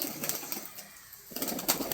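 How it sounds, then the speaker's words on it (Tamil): Plain and crested pigeons feeding in a yard, with soft close cooing, brief wing flaps and scratchy pecking in short bursts, separated by a quieter pause. "இப்போ புறாலாம் நல்லா மேய்ஞ்சிக்கிட்டு இருக்குது."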